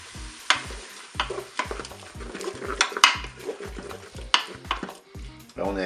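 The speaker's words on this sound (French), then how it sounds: "Je vais ajouter maintenant mes morceaux de jambon cru." Pieces of raw ham brown in a Cookeo multicooker alongside chicken fillets, with a bright sizzle broken by frequent scraping and clinking of a utensil against the pot and a low tone under it.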